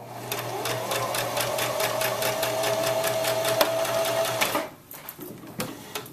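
A sewing machine stitches the long seam of an infinity scarf in a steady, close, rhythmic whir that stops near the end, leaving a few soft clicks and handling sounds.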